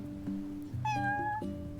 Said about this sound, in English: Cat! Cat has quest for me.